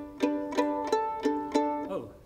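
Violin strings are plucked pizzicato without the bow across the G, D, A and E strings, five evenly spaced plucks, each ringing briefly and fading, followed by a faint closing note, heard close and alone.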